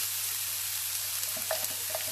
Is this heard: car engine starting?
no